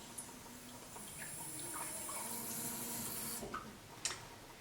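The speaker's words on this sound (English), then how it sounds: "Then we want just enough water to make this a good consistency." Water is poured steadily into batter for Halloween treats, a quiet, close trickle lasting about three seconds with a few faint clinks at the start and end, and no voices.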